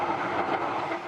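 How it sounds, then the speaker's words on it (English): Rolling rumble of a new Los Angeles Metro light-rail train on the line to Santa Monica, a steady, loud, broadband roar with no pauses, heard from on board. "He took us for a ride on the new train to Santa Monica that's been dubbed the subway to the sea"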